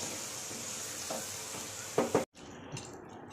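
Maggi noodles stirred and dried in a pan, giving a steady soft sizzle with a few scraping stir strokes close up near the end, alone without talk.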